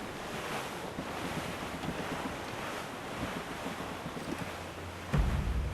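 Ocean waves and wind in the pirate sailing game Assassin's Creed IV Black Flag, a steady broad rush of surf and gusting air at sea, continuous and fairly loud with no speech.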